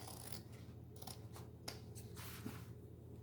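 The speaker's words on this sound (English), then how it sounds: "I pull these apart and I just snip one layer at a time" Scissors snip through denim jeans, one layer at a time, as the legs are cut down into shorts; quiet, close crisp cuts come in a loose, irregular rhythm over a low steady hum, with no talk.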